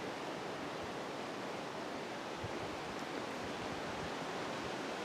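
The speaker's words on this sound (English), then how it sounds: "it's blowing a lot, like, higher up in the trees." Wind rushing high in the treetops on a hillside, a steady broad hiss that holds evenly throughout at moderate volume.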